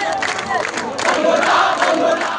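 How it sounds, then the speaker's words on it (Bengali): Dense crowd of Jatiyatabadi Chhatra Dal student activists loudly chanting slogans in unison at a protest outside the Election Commission in Agargaon, Dhaka, voices rising in rhythmic bursts. "এ সময় তারা বিভিন্ন ধরনের স্লোগান দেন।"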